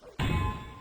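A wrestling ring bell at a live indie match rings once with a sharp metallic strike, then hangs on as a bright, sustained ringing tone that slowly fades over crowd noise.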